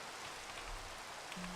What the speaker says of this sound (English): That will stop the rain or maybe start it